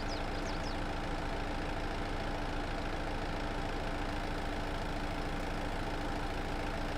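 In Farming Simulator 22, a fire truck's arm rises and lowers to a continuous idling engine drone with a faint mechanical whine. The sound stays level throughout, with no voices.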